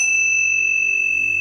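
Tibetan tingsha meditation bells ring with a bright, high, sustained tone that hangs steadily and loud up close, with no other sounds around it.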